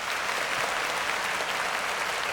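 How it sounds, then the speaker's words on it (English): Steady applause from a crowd in a video game scene: a dense, continuous wash of clapping at moderate level, with no voices. "Where the claps?"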